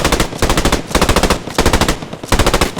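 Machine gun fire in the World War II shooter game Post Scriptum, loud rapid bursts of automatic shots separated by brief pauses, with four distinct volleys close up.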